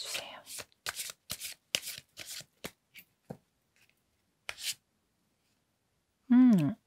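Oracle cards are shuffled in crisp rapid riffles, a dozen or so papery bursts that pause and then return. A voice speaks briefly at the end.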